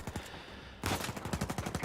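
Rapid enemy gunfire in Uncharted 4, a loud automatic burst of repeated sharp cracks that erupts suddenly after quieter game ambience and continues in a steady stuttering rhythm.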